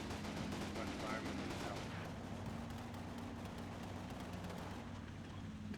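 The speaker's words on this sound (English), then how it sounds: "2 tanks firing." Two tanks fire in a distant, muffled rumble of repeated cracks and booms under constant wind-like noise, faint and continuous rather than sharp.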